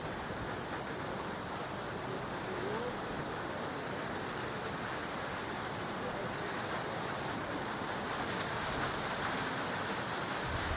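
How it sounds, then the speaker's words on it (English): Steady broadband hiss of rain falling outside a bowling club in Tauranga South, a constant, even wash with no distinct drops standing out, alone throughout. "It's raining outside"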